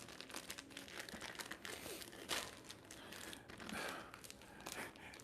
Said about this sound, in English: the zipper part did not work, so I had to rip it open